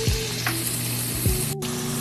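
Six slices of chopped bacon hit a hot frying pan with a steady, close sizzle and crackle, plus a few sharp spatters and pan knocks; no talking.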